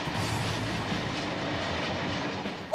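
A train on an inner city line rolls past with a continuous loud rumble and rattle of wheels on track, steady throughout with no voices.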